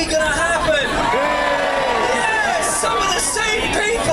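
A crowd in a room cheers and whoops loudly, a dense mix of shouting voices and babble that carries on steadily throughout.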